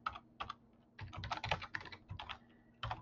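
Code is typed on a computer keyboard in uneven bursts of quick, close clicking keystrokes with brief pauses, over a faint steady electrical hum.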